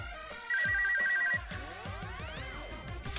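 In the video game Super Danganronpa Another 2, a phone rings with a rapid electronic trill that stands out against the game's background music. A rising synthetic sweep follows, and no one talks.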